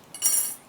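A single short ceramic clink as a plate is set down on a kitchen countertop, close and crisp with a quick ringing decay.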